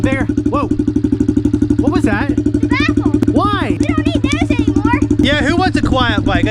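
Honda 110 motorcycle engine idling loud and rapid with its exhaust baffle removed, a steady close pulsing putter running throughout while people talk over it.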